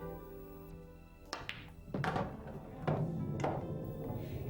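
A billiard cue ball struck with a screw backspin stroke, giving a few sharp knocking clicks of ball contact spaced across a quiet room with some background hum.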